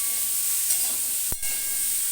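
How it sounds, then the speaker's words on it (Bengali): Rohu fish curry sizzles and fries steadily in a pan with kulkohlrabi and potato, a close continuous hiss with a brief stirring scrape partway through. "এটা এখন একটু ঢেকে ঢেকে কষিয়ে নেব"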